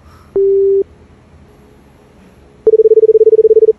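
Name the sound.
telephone call unanswered, busy signal tones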